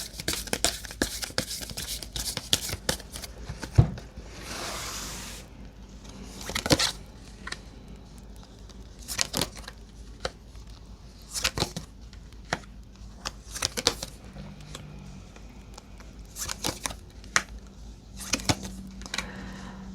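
Tarot cards shuffled by hand before a reading, a run of soft crisp riffling and snapping bursts repeating irregularly across the stretch, close and fairly quiet, with a brief louder rustle near the start and no talking.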